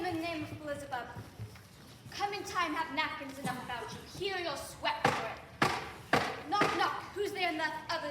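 Sharp stage knocks in a middle school acting class production of Macbeth land in a quick cluster of three hard thuds, struck beneath actors speaking their lines over a roomy background.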